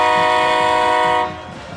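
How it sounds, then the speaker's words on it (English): The Palmer Bulldogs touchdown horn blares at a high school football game against Pottsboro, a loud, sustained train-like chord that holds steady, then drops off and fades near the end, with no talk over it. "That's the Palmer touchdown horn."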